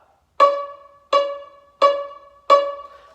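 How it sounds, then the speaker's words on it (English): Violin pizzicato on C sharp: four evenly timed plucked quarter notes, each a crisp close attack with a short ringing decay, with nothing else heard. "So C sharp is going to sound like this."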